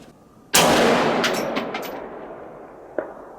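Single loud rifle shot from a CMMG Mk4 AR chambered in 224 Valkyrie, fired outdoors at long-range steel, a sharp crack with a long rolling echo, then a faint distant ping of the hit about two and a half seconds later.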